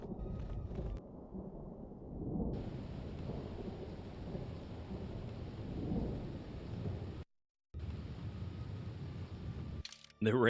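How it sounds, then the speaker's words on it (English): Rumbling thunder in Star Wars: Knights of the Old Republic II, with rolling storm noise that surges several times, briefly cuts out near the end, and returns with a sharp crack. "The random thundering really gets me."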